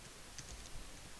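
Quiet computer keyboard keystrokes while a file path is typed, a few soft, sparse clicks over a faint room hiss with no one speaking.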